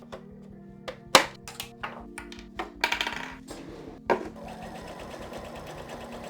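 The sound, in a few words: sewing machine stitching a chain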